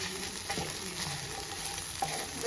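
Chillies fry in a hot pan while being stirred, giving a steady close sizzle with soft scraping strokes and no voices.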